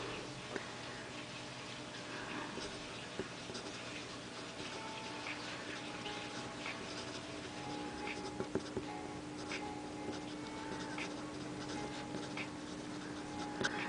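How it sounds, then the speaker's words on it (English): A Lamy LX fountain pen scratches quickly across paper, a faint, continuous rapid rasp of nib strokes with small ticks, heard close and alone. "I'm going to try to write really fast"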